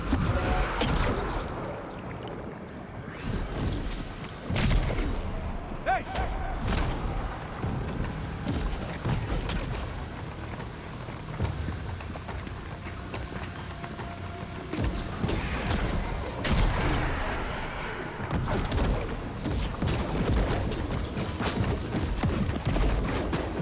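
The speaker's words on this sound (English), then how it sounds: "Got a grenade launcher, I'm not afraid to use it." Grenade launcher firing in the video game Death Stranding 2, with heavy repeated blasts and crashing impacts amid dense, noisy combat sound that stays loud throughout.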